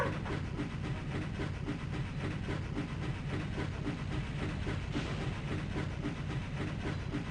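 A train in the video game MediEvil rumbles and hisses along steadily, with a rhythmic clattering running throughout and no talk over it.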